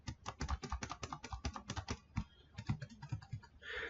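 Fast, uneven typing on a computer keyboard, a close flurry of crisp key clicks that slows into a few sparser taps.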